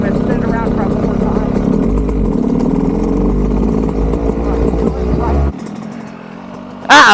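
A motorcycle engine revs and roars close up during a third gear wheelie, holding a loud, steady drone before cutting off abruptly near the end, with a voice talking over it.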